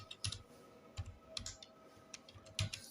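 Computer keyboard typed on while entering stock items in Tally accounting software, with several quick clusters of close, faint key clicks and short pauses between bursts.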